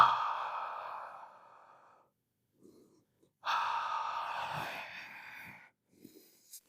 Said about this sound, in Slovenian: Izdihuj dlje časa, izdihuj, šteješ do 3 in vdihni pri 4